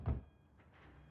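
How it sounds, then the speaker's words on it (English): A knock on a woman's door in a horror film, a single dull thud near the start followed by quiet room tone. "Ryan Gosling knocks on her door to coax her out."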